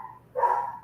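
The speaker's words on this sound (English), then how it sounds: "I gotta go run and see about this dog" A dog gives a single short bark, faint and somewhat distant, after a brief moment of quiet.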